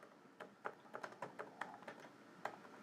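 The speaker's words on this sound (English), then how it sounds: "I'm halfway typing this." Quick, irregular keystrokes tapped on a computer keyboard, a string of light clicks at close range with brief pauses between bursts, fairly quiet and free of speech.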